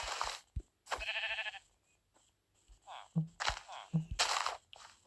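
Sheep bleating in a video game, several short nasal bleats scattered among soft thuds and quiet gaps, close and fairly faint.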